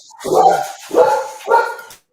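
Dogs let out three loud barks, each a full woof followed by a short whining tail, spaced about half a second apart and close by.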